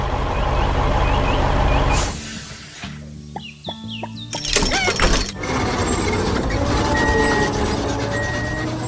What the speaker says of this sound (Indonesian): Bus berwarna kuning ceria melaju dengan berani, berkeliling kebun yang penuh warna.